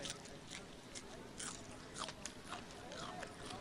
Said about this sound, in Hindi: इसको ऐसे ही चबा सकते हो